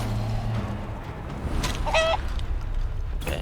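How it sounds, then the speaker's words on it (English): A brief clucking from an enemy turned into a chicken in Divinity: Original Sin II sounds once near the middle, short and moderately clear over a low ambient game hum. "Rupture the tendons and then turn him into a chicken."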